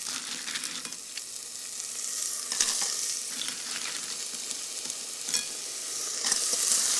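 Clams stir-fried in a hot pan for a lettuce dish, a steady low sizzle with scattered crackles and occasional louder spatters from stirring, without talk.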